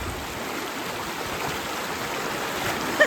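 Strong current of the Balason River rushing over its bed, a steady broadband roar of flowing water close by, loud and continuous with no voices.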